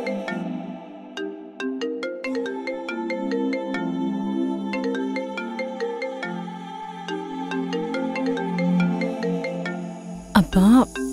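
A mobile phone rings with an incoming call, playing a melodic ringtone continuously and fairly loudly for about ten seconds before a brief clatter at the end.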